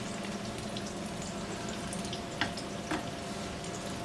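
Chicken nuggets fry in vegetable oil in a pan on a stove, giving a steady close crackle and hiss with a couple of sharper pops and no talking.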